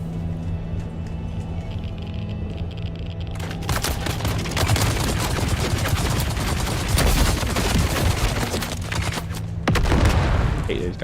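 Rapid Gatling gun fire in the video game Dune Awakening. Dense, loud bursts of automatic shots with booms mixed in run for several seconds over a steady background drone.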